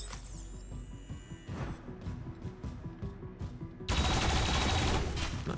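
Gunfire in XCOM: Chimera Squad: a run of sharp, evenly spaced shots with metallic ringing, then a sudden loud, sustained blast of crackling fire that fills the rest.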